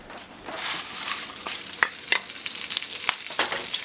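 Spinach with tomatoes and garlic frying in a pan for a BLT linguine, a close crackling sizzle broken by repeated scrapes and clacks of stirring at an uneven rhythm.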